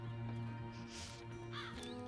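Crow in Dreamfall Chapters cawing twice in quick succession over a quiet, steady game ambience hum, close and fairly soft.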